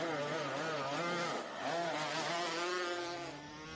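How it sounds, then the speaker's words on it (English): A Laycock Racing Yamaha racing motorcycle sets off at the Lightweight Classic TT on the road course, its engine a loud, close, high-pitched buzzing whine that rises and shifts in pitch as it accelerates away, with no talk over it. "Mike Brown's Laycock Racing Yamaha would set off second on the road"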